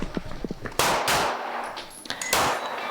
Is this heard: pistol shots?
yes